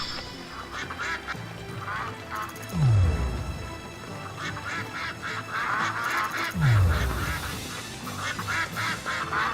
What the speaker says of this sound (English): It's really just catching ducks in the rain as they squawk at you.